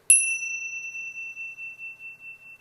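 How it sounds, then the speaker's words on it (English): A single strike of tingsha bells in a room cleansing ritual gives a bright, clear ding that rings on alone, its shimmering tone slowly fading and pulsing over a couple of seconds. "Then you're going to go with your tingsha bells like so"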